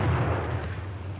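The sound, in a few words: German stick grenade (potato masher) exploding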